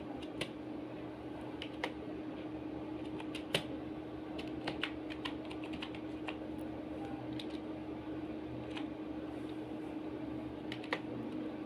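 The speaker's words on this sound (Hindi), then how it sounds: "यहाँ पे हम टाइप कर देते हैं कशफबीर" Steady, rapid clatter of keys as text is typed on a computer keyboard during an MS Excel lesson, close and fairly quiet over a low constant hum, with no voice.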